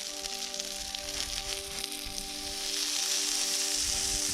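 Sausage sizzles in a pan for a camping breakfast outdoors, a steady close hiss of frying fat with a constant tonal hum underneath and no talk.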